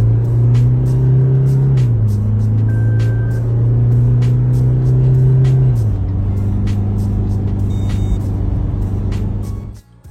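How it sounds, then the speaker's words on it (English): A Toyota Fortuner mild hybrid drones loudly under hard acceleration, its engine tone climbing and then dropping at two gear changes before pulling steadily on, close and continuous with no talking. "For all the noise, the Fortuner isn't particularly quick, even with motor assist under hard acceleration."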